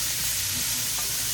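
Beef, peppers and onion stir-frying in a pan, giving a continuous dense sizzle and hiss with faint stirring scrapes underneath.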